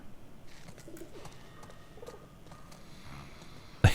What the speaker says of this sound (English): He's keeping pigeons in a cage.